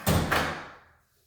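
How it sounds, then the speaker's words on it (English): The door of an Impact dog crate is set back in place with two quick knocks, a sharp one and then a lighter one, each fading out quickly. No talk is heard. "Okay, let me put the door back."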